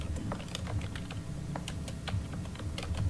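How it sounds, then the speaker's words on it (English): Rapid, uneven clicking of keys on a computer keyboard during a committee meeting, a close run of taps with short pauses and a low room hum underneath. "I'm just going to make a couple of notes on the screen if the keyboard will work"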